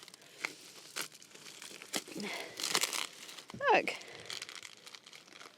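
Plastic and paper packaging around a Rocna anchor crinkles and tears in bursts of rustling, close to the microphone, while someone speaks briefly.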